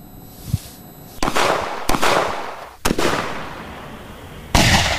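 Sharp, loud reports from a 7.62 mm sniper rifle fired at short range, several separate cracks spaced a second or so apart, each with a brief decaying tail.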